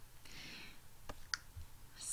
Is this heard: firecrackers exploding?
no